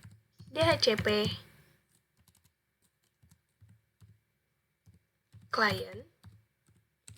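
Soft, sparse keystrokes tap out a command on a computer keyboard, quiet scattered clicks heard under and between a man's spoken explanation.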